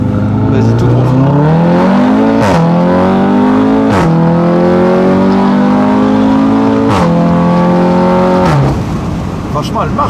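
An Audi RS3 accelerates hard on the road, its engine note climbing steadily through each gear with sharp breaks at the shifts, loud and close from inside the car, while people talk briefly under it.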